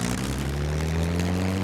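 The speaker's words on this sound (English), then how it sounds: "When the tail comes up, you can take off." Propeller airplane engine droning steadily at high power during takeoff in the SCUM video game, a loud continuous roar with a rising tone and no talk.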